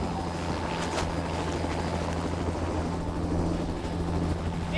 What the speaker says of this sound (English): Three hours later, a rescue helicopter picks up Blake and rushes to the scene.